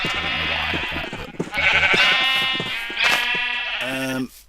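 Minecraft sheep bleat repeatedly, several wavering nasal baas overlapping one another, close and clear, with a last short bleat at the end and no talking.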